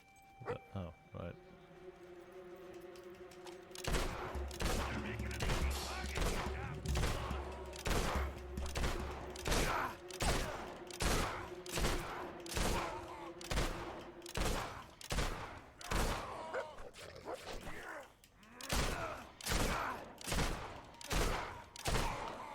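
Pistol shots fired over and over in the video game Fable, a steady run of sharp evenly spaced cracks with game ambience underneath and someone talking over them.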